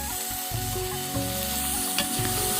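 Gheri (ghari fish) hitting hot spiced oil in a pan, a steady close sizzle and crackle of frying with faint stirring under it, no voices.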